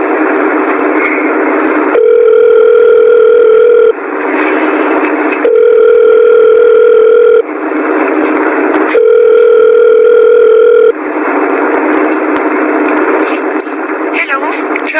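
Three rounds of a steady phone ringback tone during a call, each about two seconds long and loud and close, with breaks of background noise in between.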